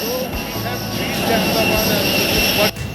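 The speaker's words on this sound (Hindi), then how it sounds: "फ़्लाइट का आवाज़ से आप लोगों को कुछ सुनाई देगा नहीं" A jet airliner engine roars steadily near the terminal at Ahmedabad airport, a loud continuous whine and rumble with people's voices talking faintly beneath it.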